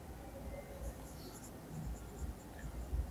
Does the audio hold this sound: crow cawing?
no